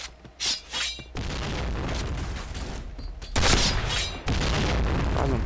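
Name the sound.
bomb explosion in Point Blank video game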